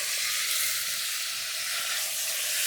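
Food fries in a pan over a wood fire outdoors, making a loud, unbroken sizzle and hiss that stays steady throughout, with no voices.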